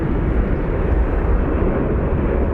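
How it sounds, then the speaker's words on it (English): An Embraer Brasilia turboprop taxiing at Phoenix Sky Harbor airport, a loud continuous low engine roar and rumble that holds steady throughout, with no other sounds standing out. "we have a Embraer Brasilia over there that is taxiing"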